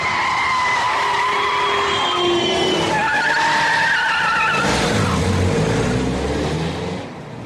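A pursuing car skids with long, loud tire squeals that rise and fall for several seconds before the engine sound drops away at the end, with no voices over it.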